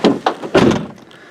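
A sagging door on a Jeep Cherokee XJ is worked, giving two quick knocks and then a heavier thunk as it shuts close by, followed by a brief fading rattle.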